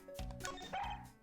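A cartoonish dog bark from the Ace Attorney video game, one or two short yipping woofs heard close and alone.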